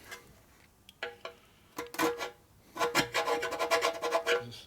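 A proper scraper works over a part of a 1941 74ci Knucklehead motorcycle, giving close, rasping strokes. A few isolated scrapes come first, then a fast run of repeated scraping near the end.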